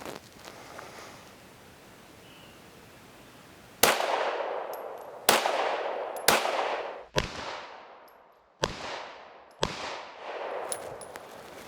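Six single shots from an S&W M&P 2.0 pistol at an outdoor range, sharp loud cracks spaced about a second or more apart with ringing decay and faint metallic pings after.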